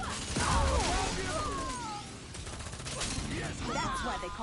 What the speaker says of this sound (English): doesn't know about the alternate firing mode, which is this